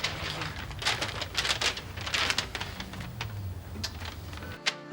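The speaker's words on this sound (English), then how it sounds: "a fax just came in" A fax machine on a 1980s office desk receives and prints a fax with a continuous busy clatter of rapid mechanical ticks and rustles. A few faint tones come near the end, with no talking.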